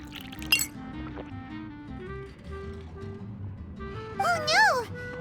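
Juice pours into a glass and a glass clinks in the fantasy game Genshin Impact. A sharp clink comes early, then a short liquid pour and gurgle near the end, over soft background music and someone talking.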